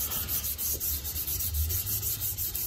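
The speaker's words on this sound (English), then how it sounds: "I'm going to rub now, or sand with the grain" Wood for a wooden spurtle being sanded by hand with the grain, giving soft rhythmic back-and-forth rubbing strokes, close and quiet, with no talking.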